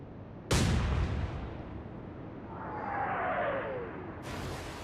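A big naval gun salvo from the battleship Duke of York in the naval game Atlantic Fleet: one sharp, loud boom that rumbles away, then a rising whistle of shells in flight, with no voices.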